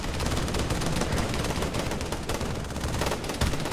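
Dense, continuous video-game gunfire as vehicles are gunned down, rapid machine-gun bursts packed tightly together at high volume throughout.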